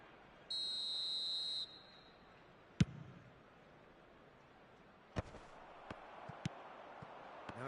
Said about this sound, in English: And the whistle's gone, presumably for offside.